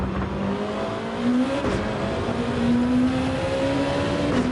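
Honda NSX and Mercedes CLK Gr.2 race cars lap Deep Forest Raceway in a racing video game, engines droning and shifting pitch steadily, with several cars audible together at a constant moderate level.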